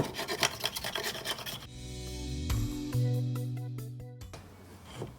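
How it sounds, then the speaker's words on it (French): Rasping scrapes on a beehive floor board, quick rough strokes at first, then slower grinding drags with squeaky tonal scraping, close and fairly loud. "Donc je gratte au maximum"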